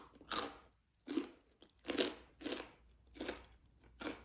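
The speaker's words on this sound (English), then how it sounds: "Are my chews like thunderous right now? These are really crispy." Crunchy seeded crisps being chewed close up, with six loud crunching bites spaced roughly half a second to a second apart, each a dense burst of crackle with quiet pauses between.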